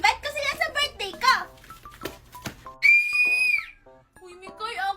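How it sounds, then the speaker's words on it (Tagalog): A child blows a toy whistle in one sustained, fairly loud shrill tone lasting under a second, preceded and followed by children chattering nearby. "Kanina ka pa nagpipito."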